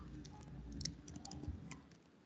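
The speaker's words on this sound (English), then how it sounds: "So I'm just typing" Typing on a computer keyboard, a quick irregular run of soft light key clicks, close but faint, over a low background hum, with no speech.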